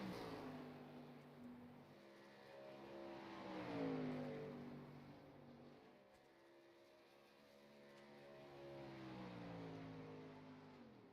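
Racing truck engines in a sim racing game rise and fall in pitch as the trucks work through turns 1 and 2, a steady droning whine swelling and easing, fairly faint and without talk.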